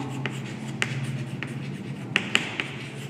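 Chalk or marker strokes on a classroom board during a commerce lecture, a series of short scratchy taps and scrapes at irregular intervals over a low steady room hum, no voice.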